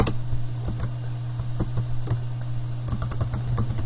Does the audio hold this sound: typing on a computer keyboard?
yes